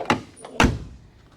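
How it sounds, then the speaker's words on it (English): Two solid car door thuds on a Ford Model A, a lighter close first and then a firmer, louder shut, each dying away quickly, near and clear with no talk. "Doors sure close nice."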